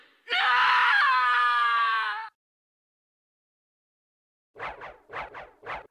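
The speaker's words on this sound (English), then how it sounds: "her scream is a lot more suggestive" A female character in Castlevania: Symphony of the Night lets out a long, loud, wavering scream lasting about two seconds. After a pause, three short rhythmic gasps or cries follow.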